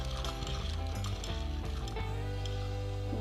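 A hand-cranked knitting mill (tricotin) working yarn for Christmas decorations, giving a continuous fast ratcheting clatter of gears and pawls, close and steady, with no talking.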